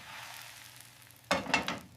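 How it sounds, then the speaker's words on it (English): An omelet sizzles and fries in a pan, with a soft hiss followed by a few sharp bursts of crackling, close and clear, with no talk. "I flip the omelet."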